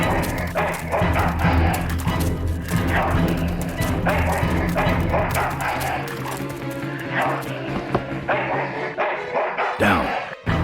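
A dog in Full Throttle barks repeatedly over busy game sound and music, with sharp, evenly spaced yaps running through most of the stretch and a voice heard at times.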